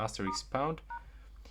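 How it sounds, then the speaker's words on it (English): Short electronic keypad tones from a POCO C65 phone dialer as a secret code is entered, a few clipped beeps in quick succession, fairly quiet and close. "open the phone dialer and go into the dialing keypad"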